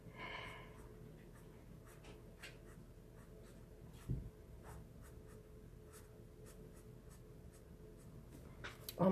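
Markers scratching and squeaking across paper while a reindeer page is coloured, a string of short, quiet strokes at an irregular pace with soft breathing between them.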